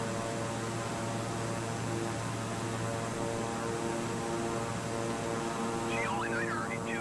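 An airplane engine in Flight Simulator drones as a steady, even hum throughout, with a faint voice briefly at the end.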